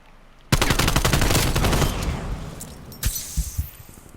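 Rapid automatic gunfire bursts out in a Call of Duty: Black Ops Cold War match, a loud sustained rattle of shots followed by scattered single cracks and impacts.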